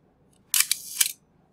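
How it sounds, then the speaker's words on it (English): A camera shutter fires close by, a sharp burst of clicks, a short mechanical whir, then a second click, each brief and crisp against near silence. "Here you go, this is the shutter."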